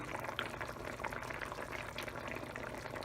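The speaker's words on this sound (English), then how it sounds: "now we're going to add our fish into the pots, the fried snapper" Fried snapper pieces go into a pot of simmering stew, and a steady, bubbling liquid sound carries on close by throughout.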